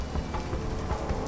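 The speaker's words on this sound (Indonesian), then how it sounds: "Hujan di desa Bokudi benar-benar tidak pernah berhenti, meski sebentar." Steady rain pours down on Bokudi village, a continuous dense hiss of drops hitting surfaces, close and unbroken with no voices.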